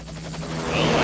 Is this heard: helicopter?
yes